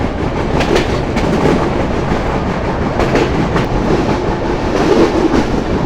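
Sagardari Express intercity train running on the Rajshahi–Abdulpur line, a steady close rumble of wheels on rails with rhythmic clickety-clack over a constant roar, no voices.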